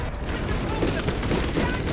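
Pistol gunfire in the Warhammer 40,000: Space Marine II video game, a dense, continuous burst of loud shots and booms layered over busy game noise.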